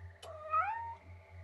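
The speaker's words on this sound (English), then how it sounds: "let's meow with the cat" A video game cat on an Xbox demo disc gives a single drawn-out meow with a rising then falling pitch, clear and close, over a low steady background hum and a brief click at the start.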